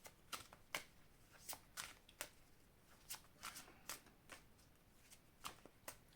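A deck of Angels of Love oracle cards is shuffled and handled close by in quiet, with a steady run of soft, crisp riffling bursts and flicks spaced about every half second.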